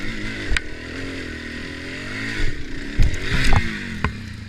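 A dirt bike engine labors uphill in first gear on a Keyesville trail, a steady close drone with bumps and clatter as it slows and falls over near the end.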